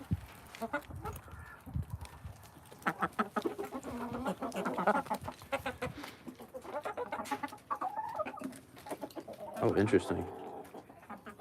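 A hen being groomed by other hens clucks in short, soft bursts. Flock chatter carries in the background, including a Rhode Island Red and an Americana, and someone talks over the sounds.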